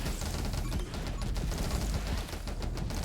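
Rapid laser fire from a boss in the game 20 Minutes Till Dawn, a dense crackling barrage of shots that stays loud and continuous throughout with no voices.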